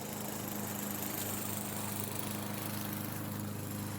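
A neighbor's lawn mower runs steadily outside, a continuous loud engine drone with a low hum that holds unchanged, no talk over it.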